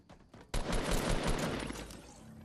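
In Fortnite, a blue assault rifle fires a sudden close, loud burst of rapid shots after a faint opening, then the shots decay into a lingering rumble, with no talk.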